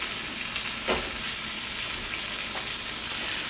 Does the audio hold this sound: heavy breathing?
no